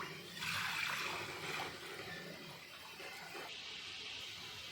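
Water pouring into a kadhai (cooking pot) while making jokhar at home, a steady splashing rush that starts loud and settles into a continuous near pour.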